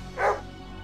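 A single short dog bark, close and fairly loud over a steady low background hum, lasting under half a second.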